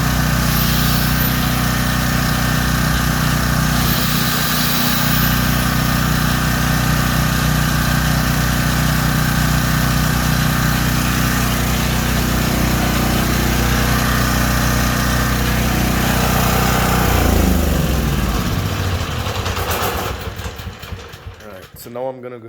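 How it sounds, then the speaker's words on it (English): A Storm Responder portable generator, its brushes replaced and converted to floating neutral, runs with a steady loud engine drone for about twenty seconds before the sound drops off near the end. "And now it's a float neutral generator."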